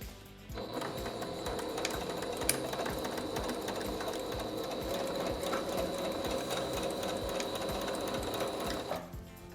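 A sewing machine runs nonstop for about nine seconds, stitching elastic vertically through a skirt's tunnel waistband, with a loud, close, even mechanical whir and quick needle rattle.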